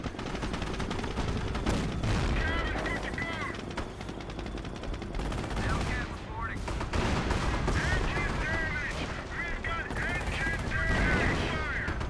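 Bursts of machine-gun fire and heavy artillery blasts from the Company of Heroes battle game, dense and continuous with sharp impacts, under a voice talking over the action.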